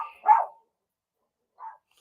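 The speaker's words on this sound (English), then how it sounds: "This dog right here is a freaking vibe killer." A dog gives two short barks, the first louder and nearer, the second softer after a pause, with a clipped start of another at the end.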